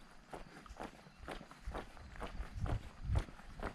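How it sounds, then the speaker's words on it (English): Footsteps walk along the main street of the small town of Tish Mills during an Ice Age Trail thru-hike, about eight steady, evenly spaced steps, close and fairly quiet, with no talking. "I'm walking the main strip right now."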